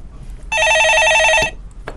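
A telephone rings on a stock-advice call-in show, a single sustained electronic trill lasting about a second, loud and clear over a quiet studio background.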